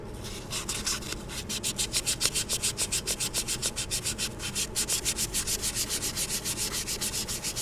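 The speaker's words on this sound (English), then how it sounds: "after I sand this down, 1200 grit is so fine that really all I'm doing is just knocking down the rough edges" Fine 1200-grit sandpaper rubbed back and forth over an engine seal surface on an Onan 5HGJAD engine, a steady rhythmic scratching of even strokes, close and continuous with no talk.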